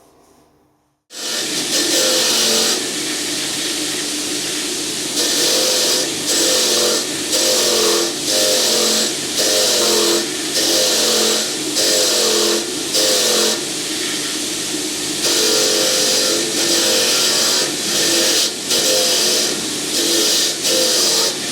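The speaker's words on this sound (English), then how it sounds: "I'll just knock them off on the wire wheel on the grinder" A wire wheel on a bench grinder brushes burrs off a freshly cut metal gear: a loud, steady whirring rasp after the grinder starts, surging in rhythmic pulses as the gear is worked against it, with no talking.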